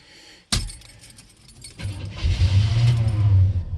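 A Chevrolet C10 pickup turned over with the key on a cold start: a sharp clack, a short cranking, then the engine catching into a loud, steady low idle rumble.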